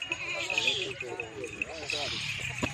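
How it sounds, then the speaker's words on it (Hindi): Goats on a goat farm bleat several times in close, wavering calls, mixed in with someone speaking nearby. "ये बकरियां"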